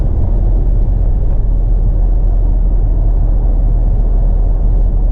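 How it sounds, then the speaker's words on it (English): Loud, constant road rumble of a truck pulling a couple of empty silage wagons along an Indiana countryside road, a dense steady drone close by with no pauses. "truck pulling a couple silage wagons"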